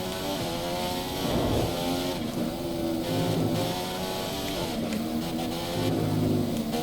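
Race car engine in a racing video game, revving and accelerating with rising and falling pitch sweeps, loud and continuous throughout with no talk over it.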